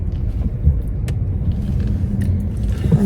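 Steady low rumble of cars idling and rolling through a small, cramped supermarket car park, heard continuously from nearby with a faint tick or two on top.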